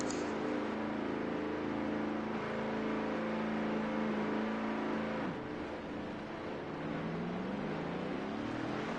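Race cars in a racing video game accelerate out of pit road, engine notes rising and sliding in pitch as several whining motors rev together, loud and continuous with overlapping tones.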